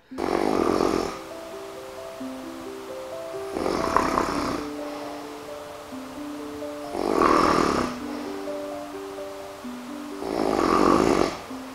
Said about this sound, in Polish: Trzeba bardzo potężnie chrapnąć